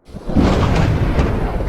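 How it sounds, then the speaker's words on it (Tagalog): Loud thunder rolls and rumbles continuously after a lightning strike, a deep, sustained roar with faint rain texture and no voices. "kumulog ang kalangitan, kumidlat sa lupa"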